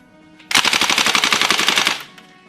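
Cybergun WE Thompson M1A1 gas blowback airsoft gun firing on full auto: a loud, close burst of rapid, evenly spaced shots, roughly eleven per second, lasting about a second and a half before stopping abruptly.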